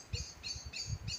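Birds singing outdoors, repeated high chirping phrases at a steady rhythm, moderately near, over a low rumbling background.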